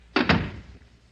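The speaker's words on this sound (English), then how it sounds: "Close the door." An office door is pushed shut with two quick, solid thuds close by, the second landing just after the first, then a short fading rumble and quiet; no one talks.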